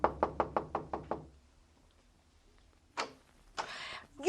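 Radio-drama knock on a house door: seven quick, evenly spaced raps up close, then a pause followed by scuffing and door movement sounds in a quiet room.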